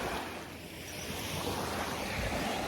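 Surf washing onto a shell-strewn sandy beach, a steady broad roar of breaking waves with wind buffeting the microphone, continuous and fairly close with no voices.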